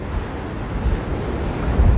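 Ocean waves at sea on the Atlantic, heard from the deck of the cruise ship NCL Dawn in strong wind, a steady low rushing wash with wind buffeting and swells rising louder near the end.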